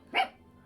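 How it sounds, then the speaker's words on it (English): A tiny dog gives a single short, faint bark somewhere in the background, brief and quiet. "you're going to get to hear my tiny dog bark a lot"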